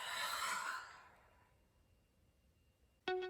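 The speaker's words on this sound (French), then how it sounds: "Prenez une grande inspire par le nez et une grande expire par la bouche" A deep breath drawn in through the nose and let out through the mouth during a yoga session, a loud airy exhale that slowly fades into near silence before a short tonal chime at the end.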